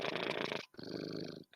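A cat purrs with a rough, raspy, croupy texture in two close, steady bursts separated by a brief pause, loud and alone.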